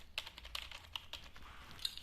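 Keys on a broken gaming keyboard, found in an abandoned villa, click in a quick, irregular run of light taps, close and fairly faint over a steady background hiss.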